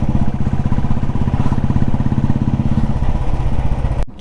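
A Royal Enfield Classic 350 motorcycle thumps along in a loud, steady single-cylinder beat heard close up, holding its even rhythm and then cutting off abruptly just before the end.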